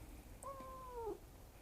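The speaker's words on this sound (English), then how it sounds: "She's meowing all the time, and I try to pet her." A house cat gives one short meow over a low background hum, fairly faint and brief, mid-clip, with no talking.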